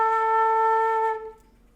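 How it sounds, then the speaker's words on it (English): A single flute note A, held steady and clean for over a second with no talk, close and moderately loud, then trailing off to silence. "Next, we have A."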